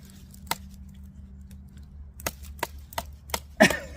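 Chopping with an ADV Tactical Crusher folding knife, producing several sharp, dry wooden thwacks: one isolated strike, then a quicker run of four or five blows ending in a louder hit, over a low steady hum.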